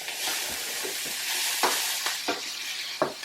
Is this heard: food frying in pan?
yes